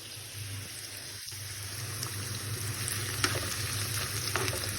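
Onion frying in very hot oil for a chakalaka stew, a steady close sizzle and crackle running throughout with a few sharper pops, no voices.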